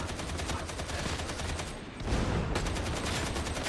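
Dense, continuous gunfire from a Gunner enemy in Warhammer 40k: Darktide, a steady rattling volley that swells louder around the midpoint and keeps pounding to the end, with no voices over it.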